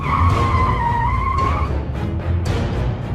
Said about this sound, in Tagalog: Biglang nakaabig ni Marcos ang kotse pakaliwa.